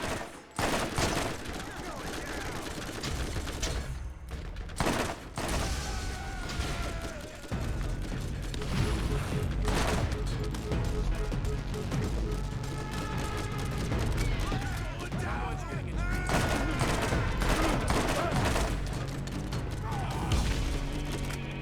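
Dense, sustained gunfire in the video game Borderlands, overlapping shots and heavy volleys nearly continuous through the scene, with game effects and a voice talking over them.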